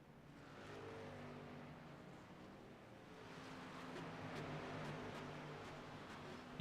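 In a sim racing truck series round at Charlotte, race trucks accelerate away from pit road, engines droning in a steady, fairly distant rising hum with a faint revving edge.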